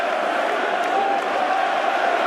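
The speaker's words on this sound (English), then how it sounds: "The crowd in here go wild" A boxing arena crowd roaring after a stoppage win, a dense, continuous wall of cheering and shouting at steady high volume.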